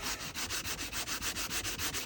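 Sandpaper on a light sanding block scrubs a John Deere riding mower carburetor part in steady rapid back-and-forth strokes, close and continuous with a regular rasping rhythm.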